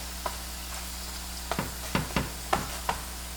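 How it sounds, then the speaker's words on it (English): Thin chapati flatbread cooking on a hot pan, with a soft steady sizzle broken by a few sharp crackles and light taps, close and fairly quiet, no voices. "So don't worry, your chapatis are cooking."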